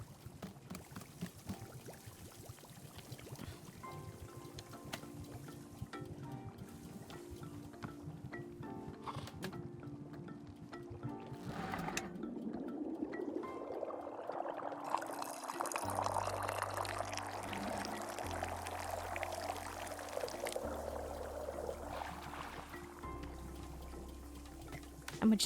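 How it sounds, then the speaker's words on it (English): Tea pouring into a cup in the video game Wanderstop, a rising liquid gush that swells and steadies over several seconds, rather loud, layered over soft game music. "you pull the rope you see here in order to pour the tea into the cup"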